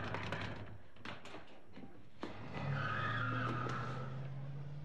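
Car tires squeal loudly and at length as a vehicle peels away on pavement, a sustained screech rising from a rumble after a few sharp knocks, close and alone without talk.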